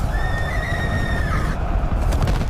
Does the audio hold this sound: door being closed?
no